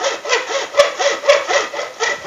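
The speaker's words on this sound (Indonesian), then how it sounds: "Oke, terus melakukan proses gergaji." A hand saw cuts through PVC pipe in quick, even back-and-forth strokes, close and clear, with a couple of sharp clicks as the blade catches.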